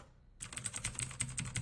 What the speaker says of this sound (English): that is a mechanical keyboard